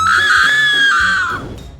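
An actress gives a single long, piercing scream on cue, loud and close, sustained at high pitch for over a second before breaking off and fading.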